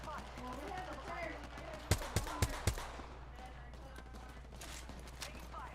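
Video game gunfire: a quick burst of four sharp shots in a row near the middle, ringing over a low background with faint talk around it.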